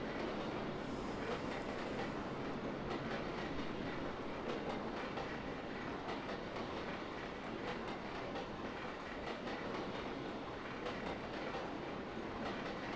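A locomotive in Trainz 2022 on a Mantiqueira Mountains route rolls steadily along the track with a constant, even rumble of wheels and a rhythmic clatter, and no voices.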